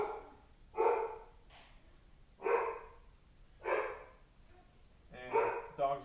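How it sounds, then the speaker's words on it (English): A dog barks in four separate bursts spread evenly over a few seconds, the last one a quick double bark, all heard in a quiet room with no voices. "And dog's going crazy because he absolutely loves this problem"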